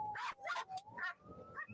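Police dogs whine and yip excitedly in short, high-pitched bursts, close by, with a faint background murmur underneath.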